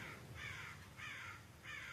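A crow caws three times in a slow, even rhythm, hoarse and fairly faint at a distance, with no one talking.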